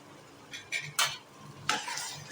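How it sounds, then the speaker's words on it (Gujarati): Okra frying in oil with lemon is stirred in a pan, soft sizzling under several sharp scraping and clinking strokes of a utensil against the pot. "તો ભીંડા જો ચડે છે તેલમાં."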